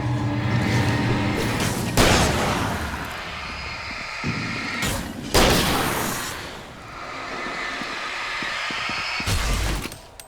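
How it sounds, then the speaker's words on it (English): Shotgun blasts in the horror game Alan Wake, three loud booming shots spaced several seconds apart, each with a sharp attack and a rumbling tail over a dark ambient game backdrop. "Don't worry, we have a shotgun with 12 rounds."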